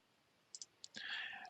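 Two quick computer mouse clicks, then a third, sounding soft and close at a desk during GIS software work, followed by a brief breathy voice sound.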